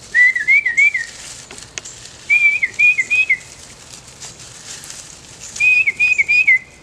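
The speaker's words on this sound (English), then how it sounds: "Or they'll have a call that sounds like Peter, Peter, Peter." A tufted titmouse sings its whistled "Peter, Peter, Peter" call in three clear phrases of rapid two-note slurs, loud and close, separated by pauses with faint background hiss.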